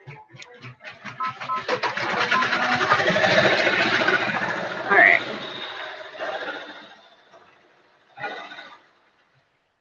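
An embroidery machine stitching an order runs with a fast mechanical clatter that builds and hums steadily for several seconds, then slows and stops, followed by a couple of short whirring bursts, with talk over parts of it.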